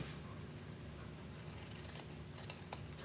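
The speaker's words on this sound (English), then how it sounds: "I'm going to just cut this one at an angle" Scissors snip and rasp through ribbon ends, cutting them at an angle while a hair bow is being made; soft, close cutting and rubbing sounds run steadily over a light background hiss, with no talking.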